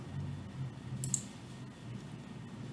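A computer mouse clicking once or twice, faint and brief, over a low steady room hum with no talking.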